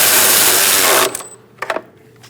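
Ratchet tightening bolts on the brake master cylinder of a 2000-2006 Mini Cooper: a dense, loud whirring run of clicks, then a pause and two short bursts of clicking, with no talk.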